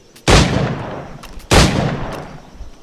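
Two loud gunshots from a firearm in Assassin's Creed IV: Black Flag during a timed target-shooting challenge, spaced about a second apart, each with a long echoing tail and no talk over them.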